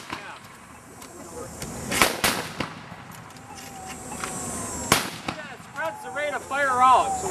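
Musket fire at a GAR encampment drill: two sharp, loud gunshots cracking a few seconds apart, followed by shouted commands from men on the field.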